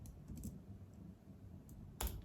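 Typing on a computer keyboard at a terminal, a few faint, scattered keystrokes ending in one sharper, louder key press near the end, close and quiet with no voices.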